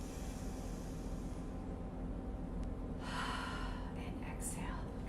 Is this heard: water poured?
no